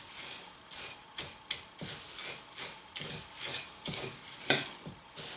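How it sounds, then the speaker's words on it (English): Granola mixture with cinnamon being stirred in a bowl, close rhythmic scraping and rubbing strokes repeating every half second or so, with no talk. "I'm just going to start mixing this around."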